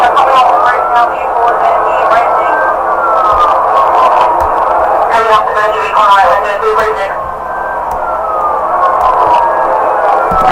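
Distorted police radio chatter in a Roblox game, crackly garbled voices with siren-like tonal sweeps that stay loud and continuous throughout.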